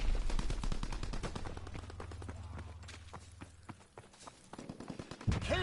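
Rapid submachine gun bursts from an MP40-style weapon in the Call of Duty WW2 video game, a dense rattling volley over a low engine-like drone, followed by scattered shots and impacts.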